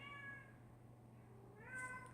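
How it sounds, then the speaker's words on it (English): A domestic cat gives two faint meows separated by a short pause, heard at a distance over a steady low hum with no talking. "stupid cat"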